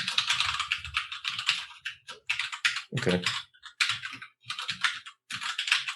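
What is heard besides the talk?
typing on a mechanical keyboard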